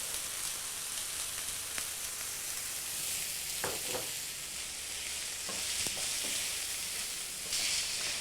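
Chopped red pepper and finely chopped garlic fry in a pan on very high heat, a constant loud sizzle with intermittent scraping knocks as the pieces are stirred around, no voices.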